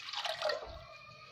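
About two glasses of water poured into a pan for a homemade drink, a brief close splashing gush that quickly settles into a softer trickle, with no voices.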